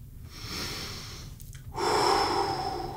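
Someone takes a breath in through the nose, then a longer rushing exhale, during a children's karate lesson; close and clear, with no talking.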